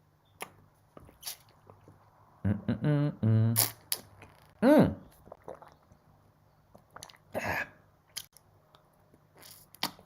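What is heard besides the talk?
taking a sip of water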